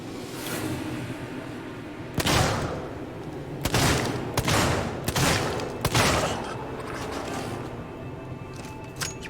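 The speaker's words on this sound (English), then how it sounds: "More shots than I wanted to use" Several loud gunshots ring out in Alien: Isolation, a spaced volley of sharp blasts with echoing tails over a dim ambient hum, close and without speech.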